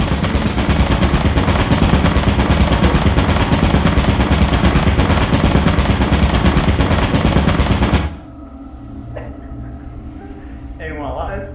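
Sustained machine-gun fire from a turret in the video game Lethal Company, loud and continuous for about eight seconds before cutting off abruptly to quieter background sounds.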